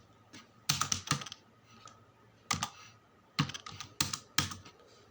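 Bursts of fast clicking keystrokes on a computer keyboard, entering data into Tally Prime accounting software, come in several short clusters separated by pauses, fairly close with no talking.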